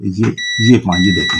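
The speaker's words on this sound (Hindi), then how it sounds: "ये आपको बीप सुनाई दे रही होगी" A steady, high electronic beep from the relay circuit of an LME22 burner controller holds on continuously while someone speaks Hindi over it.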